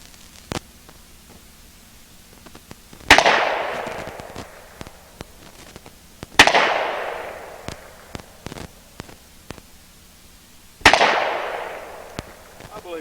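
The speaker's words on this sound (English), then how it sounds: "let's see if I can hit each one of those circles on 3 shots" Three sharp gunshots aimed at a paper target ring out several seconds apart, each a loud crack with a decaying echo, over quiet background noise.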